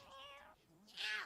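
A pet cat meows twice, a drawn-out tonal call followed by a higher, brighter one, faint and close in an otherwise quiet room.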